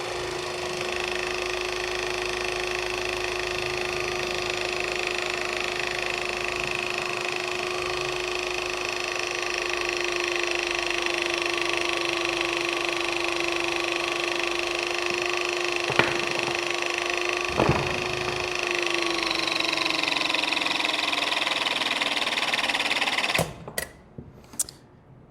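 A Klauke EHP700L electrohydraulic pump runs under remote control while cutting, holding a steady mechanical whine with a faint hydraulic squeal rising midway; the drone cuts off abruptly near the end, leaving a few clicks.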